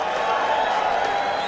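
A crowd cheers and applauds at the Dew Tour 2022 skateboarding contest, a steady distant wash of cheering and clapping at moderate volume.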